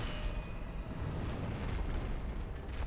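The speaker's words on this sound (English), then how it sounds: "He does this attack, that is an AoE explosion attack" Centipede Demon's area-of-effect explosion attack in a video game, a dense continuous low rumbling roar that holds steady for several seconds with no distinct separate blasts, heard alone without talking.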